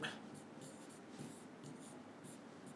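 Chalk or marker scratching out a formula on a classroom board, a series of short quiet strokes and scrapes in an irregular rhythm over faint room noise.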